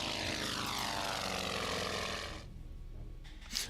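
A WW2 fighter plane's propeller engine in the strategy game Order of Battle: WW2, a loud droning roar that sweeps in pitch as it passes, then cuts to a quieter hum with faint clicks.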